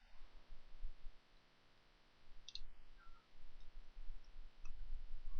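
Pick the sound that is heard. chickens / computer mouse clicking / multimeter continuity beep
computer mouse clicking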